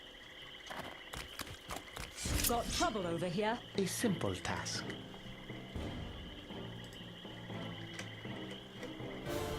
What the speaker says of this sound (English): Oh, frogs.